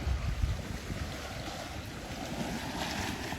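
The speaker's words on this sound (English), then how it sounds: "And this water splashing this log, and some of the splashes come all the way over here." Water splashes against a log outdoors on a walk, a continuous broad wash of surging water with wind noise on the microphone, moderately loud and steady throughout.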